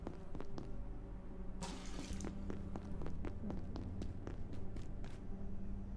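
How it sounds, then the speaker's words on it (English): In the video game Abiotic Factor, a tap runs into a pot, a continuous rush of splashing water with light clicks and footsteps, steady and moderately near. "Take my pot, fill it with water."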